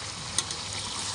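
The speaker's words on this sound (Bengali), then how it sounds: "এটাকে ভালো করে নাড়িয়ে নেব নিচে পর্যন্ত" Chicken kosa frying in a pan as it is stirred down to the bottom, a steady close sizzle with a brief scrape of the spoon early on, no voices.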